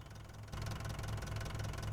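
A tractor engine in the Farming Simulator 25 video game runs steadily with a low, throbbing knock. The sound grows noticeably louder and fuller halfway through and continues evenly with no talking.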